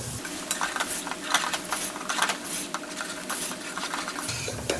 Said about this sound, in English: Now all the spices, guys. Give that a little mix.